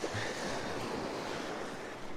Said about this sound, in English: It's a bit windy around here.